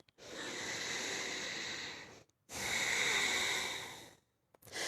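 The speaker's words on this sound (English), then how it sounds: "Big breath in." Deep breathing during a yoga stretch toward pyramid pose, two long, loud airy breaths close to the microphone with a brief pause between them, then the start of a third.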